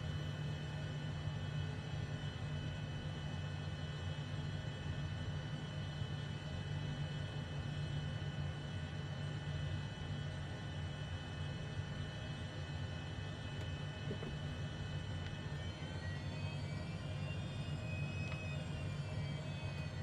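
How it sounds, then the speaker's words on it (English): A HondaJet HA240 business jet in Microsoft Flight Simulator 2020 taxis toward the runway at Bedford, its steady engine whine and low rumble holding constant throughout, with a slight tonal shift near the end. "So we're just trying to taxi to the runway."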